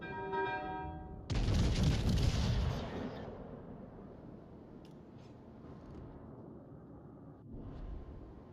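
Naval guns fire in World of Warships: Legends, one heavy booming salvo with a roaring, crackling tail that decays over a couple of seconds, followed by quieter distant rumbles.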